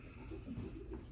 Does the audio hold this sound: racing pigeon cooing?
yes